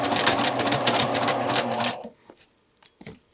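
A sewing machine runs a fast, loud burst of stitching while sewing a back tack on a Velcro closure, then stops abruptly, leaving a few faint handling clicks.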